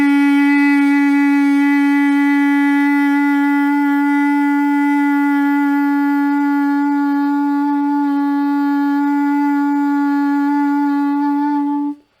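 A single reedy xaphoon note, D flat, held steadily for about twelve seconds, bright with strong overtones, close and clear, then cut off cleanly.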